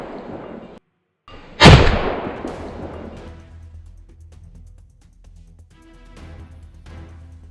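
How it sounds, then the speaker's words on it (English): Gunfire during a wild boar hunt in snowy mountains: one loud, close burst of shots that booms out and rolls away in a long echoing tail, followed by quieter rustling. "I unleashed a burst of fire at the 2 largest ones"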